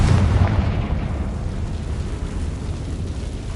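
A Confringo fire spell detonates in the Hogwarts Legacy video game, a loud booming blast with a strong low rumble at the start that fades into a sustained roaring wash of noise.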